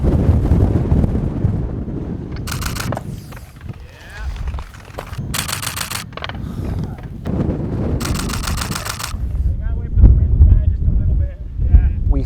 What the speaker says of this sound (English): I don't know if this wind's gonna let up